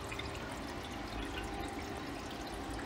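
Steady stream of water pouring into a fabricated oil pan built from GT500 parts for a Ford V10 4V engine, a continuous trickling and splashing wash that runs unbroken throughout.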